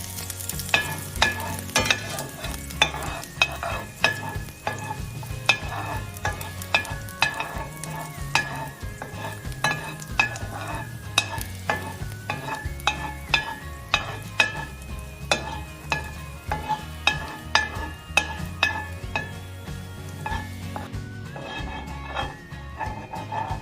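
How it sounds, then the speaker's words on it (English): Minced garlic frying in olive oil over medium heat in a pan or wok, a steady close sizzle with constant crackling pops and stirring scrapes running throughout, with no talking. "heat up the olive oil over medium heat. Add in the minced garlic and cook until fragrant"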